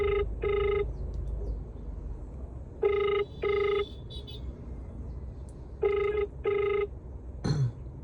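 A phone rings out on a call to an Uber customer, three pairs of clear electronic ring tones spaced evenly apart over a low background hum, with a brief click at the end.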